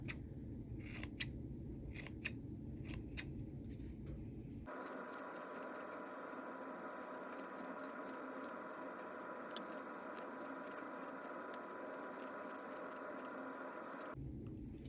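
Scissors snipping a yarn pom-pom in rapid repeated crisp cuts, close and steady, with a rustling shaking of yarn between bursts of snipping.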